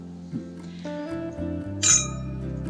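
A single bright clink of glasses raised in an anniversary toast rings out near the end, brief and close over a steady low hum, with no talk during it.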